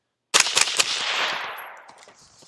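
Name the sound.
rapid rifle fire through TISHA 556 suppressor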